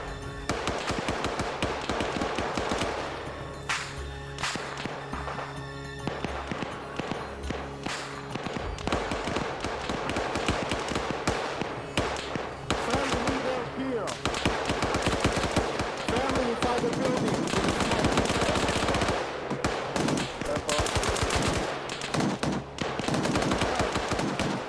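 Dense, continuous gunfire fills an urban firefight in the military shooter game Arma 3, with rapid automatic bursts and overlapping single shots from a Galil rifle and others, loud and relentless throughout.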